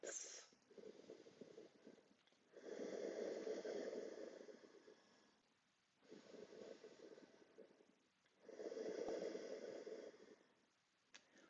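Slow, deep yoga breaths alternate between long rushing inhales and exhales, close and steady, about four breath cycles with short quiet pauses between them.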